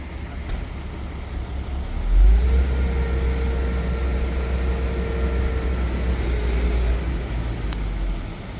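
A truck drives over the compacted underlayment of a roadway being readied for paving, a steady low engine rumble with a brief rise in revs partway through, continuous and fairly close.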